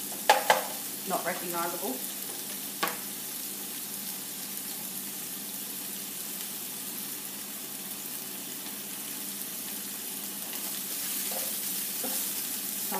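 Vegetables sizzle and fry in a pan for a vegetarian pizza, a steady soft hiss under a few louder clinks and stirring knocks near the start.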